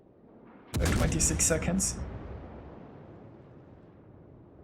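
Naval shells burst in World of Warships, a sudden heavy blast followed by several rapid explosive cracks over about a second, then a long rumbling decay; a voice briefly talks over the impacts.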